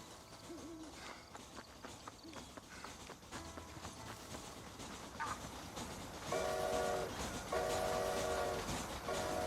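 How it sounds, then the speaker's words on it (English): Train from the video game Red Dead Redemption passing amid a steady rumble of wheels and ambient noise, with repeated loud horn blasts near the end. "Now I hear the train, but there is a train here?"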